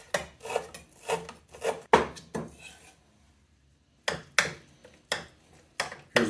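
Cucumbers being folded into a sauce in a bowl for a Greek gyro, a series of wet, scraping stirs in an uneven rhythm, close and fairly loud, pausing for about a second before resuming.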